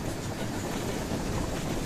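A train ride inside the VR game Rolling Line, heard from within a carriage as a steady, dense rolling rumble with no pauses or clear rhythm, fairly loud and close.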